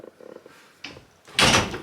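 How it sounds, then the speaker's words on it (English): A noisy hotel room door is handled with small clicks and a thud, then clicks shut with a loud, close latch. "So it makes noise. It's not a quiet door."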